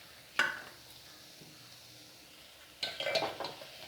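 Oats and vegetables stirred in a pan, with two brief bursts of scraping and clinking from the utensil against the pan separated by a quiet stretch of faint background noise.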